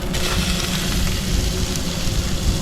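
Onions and tomatoes frying together with masala in a pan, a steady close sizzle and crackle that holds evenly throughout with no talking.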